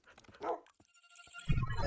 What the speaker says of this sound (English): Dog, don't go through the portal.